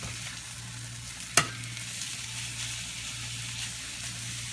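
A chicken breast frying in a pan sizzles steadily with a faint, even hiss, broken early by one sharp clack as the piece is flipped.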